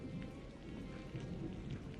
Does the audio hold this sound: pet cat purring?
no